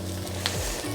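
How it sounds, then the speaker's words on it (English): Spring onions hitting a pan of already browning peppers, a close, even sizzle of frying that fills the short moment with no voices. "I'm getting the spring onions, scallions in."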